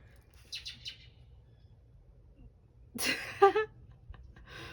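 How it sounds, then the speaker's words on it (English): A bird gives a few quick chirps, then a louder, excited burst of calling and fluttering as it flies off, close by in a quiet outdoor setting. "I don't know what bird that was, but it got very excited and flew off"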